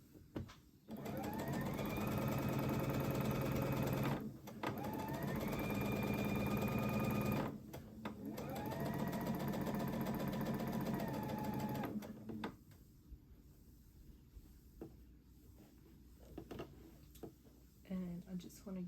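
Sewing machine stitching a dress neckline, running in steady whirring bursts of a few seconds each with short stops between, followed by quieter handling noises and someone talking.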